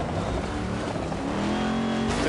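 Rally car engine in Dirt Rally 2, driven hard along a stage in Poland, a steady loud roar with shifting pitch throughout, without pause.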